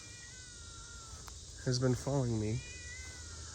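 A cat in a cemetery lets out two drawn-out meows close to the microphone, each rising and falling, following a voice speaking softly before them over faint insect-like background.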